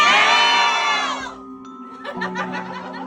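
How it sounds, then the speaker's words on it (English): A tour group in Seattle's haunted underground tunnels yells together in unison, a loud burst of many voices that fades into scattered shouts and chatter, echoing in the enclosed space. "Let's yell for help on the count of 3"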